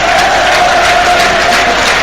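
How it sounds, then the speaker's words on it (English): A big Burnley football crowd at Turf Moor roars and cheers in a dense, sustained wall of sound that stays loud and steady throughout. "Listen to the response from the Burnley crowd now inside Turf Moor"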